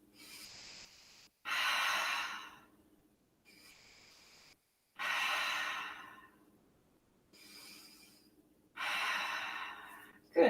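Slow, deep breaths during a warrior yoga pose, with three loud airy exhales alternating with softer inhales in a quiet room, close and unhurried with no talking.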